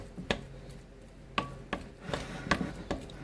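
No-bake chocolate chip cookie dough being mixed in a bowl, a series of irregular soft scraping knocks and clicks of a utensil against the bowl, close and fairly quiet, with no talk.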